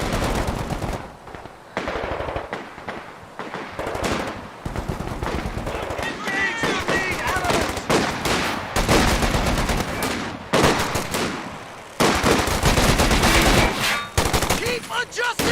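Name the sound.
machine gun fire in a video game battle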